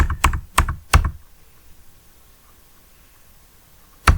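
Keys clack on a computer keyboard during data entry in Tally ERP 9, a few quick close taps at the start, then quiet, then one more press at the end.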